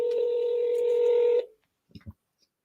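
A phone call being placed: a steady tone hums for about a second and a half, then cuts off, followed by a few faint short clicks and taps in near silence.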